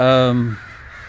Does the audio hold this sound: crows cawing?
yes